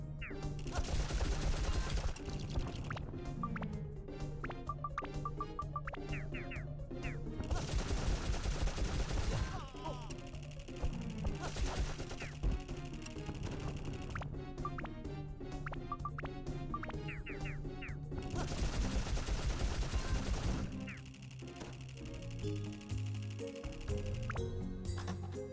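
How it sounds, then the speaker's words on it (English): Enemy being shot in the video game Dark Cloud, amid the fire and ice zone: repeated bursts of gunfire-like blasts over a continuous bed of game music and effects, loud and busy throughout. "He seemed pretty content to just chill there and let me shoot him."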